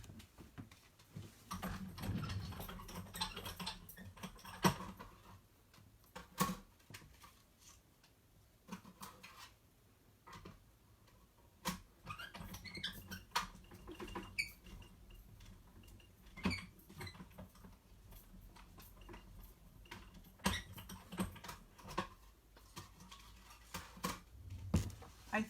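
Whisper White cardstock is cut by hand for a stamped card, giving a long series of close, crisp snips and paper crackles in an irregular rhythm, with a few soft creaks in between.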